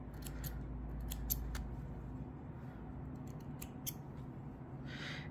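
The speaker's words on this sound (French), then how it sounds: "J'essaye de couper mes fils au fur et à mesure maintenant" Scissors snipping yarn threads while crocheting minion figures, a handful of sharp, close clicks and snips clustered early and again later, over quiet room tone.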